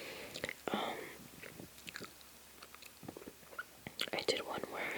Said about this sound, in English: chewed gum